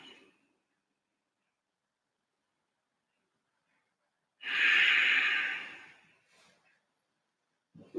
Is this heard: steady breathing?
yes